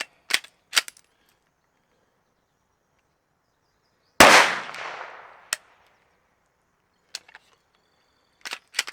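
Shots from a Walther PDP pistol fitted with a compensator and firing Hornady rounds: several sharp, isolated cracks spread across the clip, with one loud blast that leaves a long decaying ring, and quieter clicks between them.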